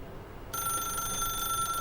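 A telephone in the video game The Stanley Parable Ultra Deluxe starts ringing suddenly after a brief quiet moment, giving a bright, continuous electronic trill that stays loud and clear.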